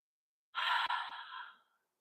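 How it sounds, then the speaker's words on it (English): A single deep, breathy exhale during a fitness exercise, close and clear, lasting just over a second and tailing off into silence. "Nice deep breaths."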